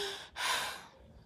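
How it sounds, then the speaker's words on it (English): A single deep breath drawn in sharply and then let out in a long, soft exhale, close and fairly quiet. "Breathe."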